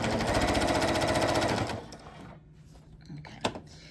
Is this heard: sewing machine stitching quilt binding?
yes